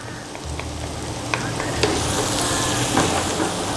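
Garlic sizzling and frying steadily in a pan for salted egg chicken, with a few light stirring clicks against the pan over a constant hiss, no talking.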